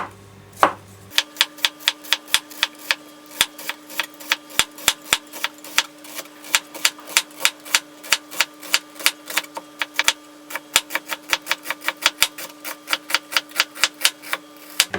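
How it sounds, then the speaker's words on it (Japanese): A knife thinly slicing onion for a salmon marinade, making a fast, steady run of crisp, sharp chopping knocks on a board, close and loud with no talking. "玉ねぎ、はい、これも薄く切ります"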